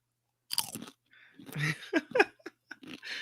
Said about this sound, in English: That was a really good crunch.